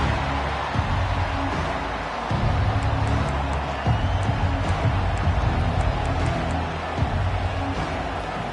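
Football stadium crowd cheering steadily after a kickoff return, a dense roar of many voices held at an even level throughout with small swells.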